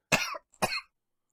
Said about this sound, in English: leave this gagging and coughing in